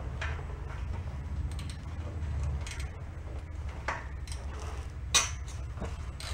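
A ratchet works loose the bolts on a 1967 Plymouth convertible in a series of quiet, irregular clicks and metallic clinks, with a sharper clank near the end and no voices.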